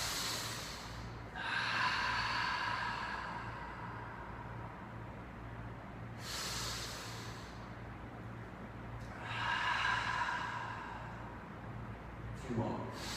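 Slow, deep breathing during a floor yoga stretch, heard as a few long hissing inhales and exhales spaced several seconds apart, close to the microphone over a low steady hum.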